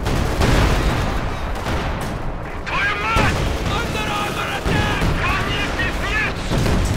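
Company of Heroes 2 battle with tanks and a Pak 43 anti-tank gun: rolling bursts of gunfire and booming blasts, mixed with in-game radio voices and a commentator talking throughout.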